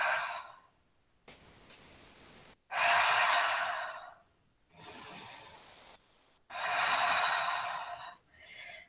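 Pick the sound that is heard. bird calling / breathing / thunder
breathing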